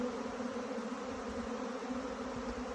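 A huge honeybee swarm pours into an empty hive, a dense, steady buzzing drone of countless wings that holds close and constant throughout, with no voices.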